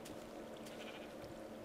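Sheep bleat faintly in a pen in the video game Minecraft, heard as a few short, soft bleats over a steady, humming background.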